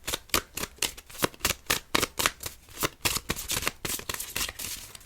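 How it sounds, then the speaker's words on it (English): Tarot cards riffle and slap in quick, uneven bursts as a deck is shuffled and cards are pulled, crisp and close, with no voice over the shuffling. "Let's pull some astrological cards for this person."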